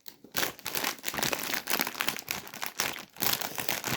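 A crinkly plastic snack bag of spicy chili-and-lime chips is torn and crumpled open, with dense bursts of loud crackling and brief pauses, very close and without talking.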